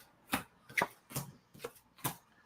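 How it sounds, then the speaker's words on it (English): Playing cards are thrown down and shuffled, making five separate crisp riffling bursts spaced roughly half a second apart, close and clear against near silence. "Let's throw some cards down."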